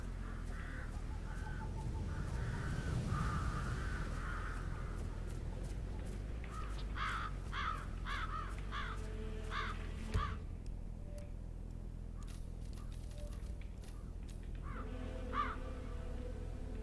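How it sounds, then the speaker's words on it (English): Birds nesting in a graveyard in Hitman 3 caw repeatedly in rough bursts, crow-like and moderately distant, over a constant low ambient rumble. "Get rid of birds nesting in the graveyard."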